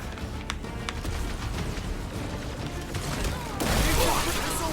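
Gunfire in the video game Marvel's Guardians of the Galaxy: a steady wash of rapid shots and mechanical clatter, swelling louder near the end amid a busy combat mix.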